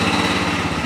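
A quad ATV pulls away in a dealership yard at closing time, its small engine droning loud and close in a steady, buzzing pulse with no voices over it.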